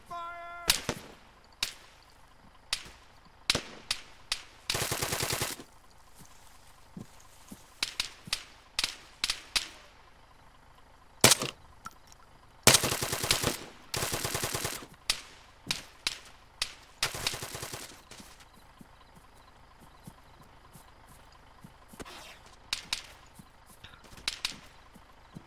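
Gunfire in the Arma 3 video game with the Tac-Ops DLC: loud single sharp rifle shots and short bursts of rapid fire, spaced irregularly over a low rumbling background, with no talking.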